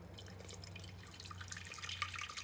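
Water trickles and splashes into a pot set up for double boiling wild ginseng, a faint bright patter over a low steady hum in a kitchen.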